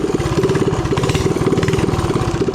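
A mini drift trike's small engine idles close by in a rough, loud, fast-pulsing putter that stays steady and gets no throttle, with no voices over it.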